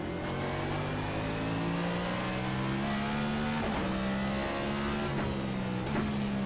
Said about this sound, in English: these cars just have quite the pitch to them